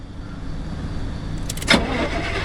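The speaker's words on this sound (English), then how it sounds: "Oh yeah, I've got to start the car." A station wagon engine in the video game Pacific Drive cranks and catches, a short starter whir rising out of a steady low background hum, close and moderately loud.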